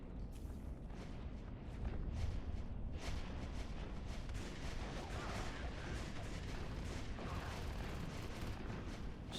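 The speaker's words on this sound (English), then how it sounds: "Some nice shotgun action." Repeated shotgun blasts ring out in a competitive video game tournament semi-final match, dense bursts of game gunfire and explosions running steadily throughout under a busy mix.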